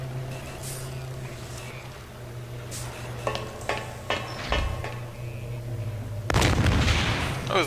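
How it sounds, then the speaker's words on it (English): Enemies in Thief 2 lob fused cartoon-style bombs, heard as a string of sharp pops and booms over a steady low hum, ending in a sustained hissing, sizzling blast. "I always love the way they fire like cartoon bombs, you know, with a fuse."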